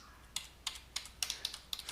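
Keystrokes on a computer keyboard while code is deleted in the Vim editor: about eight distinct clicky taps in an uneven rhythm, close and fairly quiet, with no voices.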